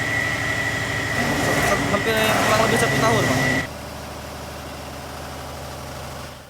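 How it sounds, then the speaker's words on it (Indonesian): Diesel engine driving a power generator at a waste-to-power plant on Pulau Tinggi, Bangka Belitung, running steadily with a droning hum under a man's speech, a high whine joining the engine noise before it drops to a lower steady rumble. "Jadi diesel ini mengolah menjadi pembangkit listrik, ya?"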